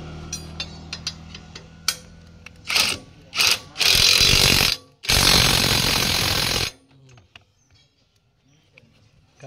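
A new Ingco impact wrench is changing a blade. It fires in short hammering bursts, then two longer rattling runs, loud and close, before it drops to quiet handling noises.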